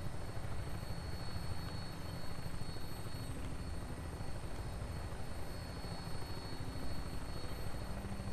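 A big jet aircraft in Fallout 4 drones with a constant, heavy engine roar, an even rumbling hum that holds steady throughout without any talk.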